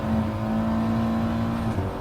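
Audi TT Gr4 race car engine at Brands Hatch in GT Sport, a steady loud drone with a strong held tone through the whole stretch, holding near-constant revs before easing slightly at the end.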